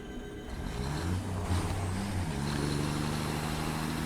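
A truck in the video game Satisfactory drives along with a steady, loud engine drone and rumble that shifts in pitch partway through, with no talking over it.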